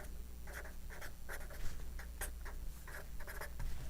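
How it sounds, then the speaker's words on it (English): A pen scratches across paper in short, irregular writing strokes, close and fairly quiet over a low steady hum, with no talking. "So let's write it out"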